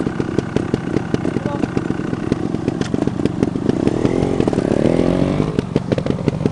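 Motorcycle engine kicked over and running, a steady throbbing roar with regular exhaust pulses that swells briefly toward the end, with people talking nearby.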